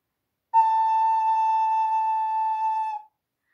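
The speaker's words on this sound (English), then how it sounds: "you're going to play note G with me after 4" An ocarina holds a single steady G note for about two and a half seconds, pure and clear with a clean start and finish, loud and close against silence.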